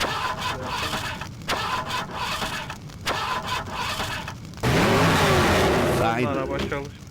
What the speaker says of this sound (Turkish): Araba çalıştı.